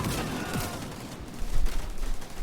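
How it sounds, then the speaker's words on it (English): Scorpio shotgun blasts in a video game raid boss fight, a burst of dense booming shots starting close and loud, thickening toward the end amid busy combat noise. "I'm going to start shooting with my Scorpio"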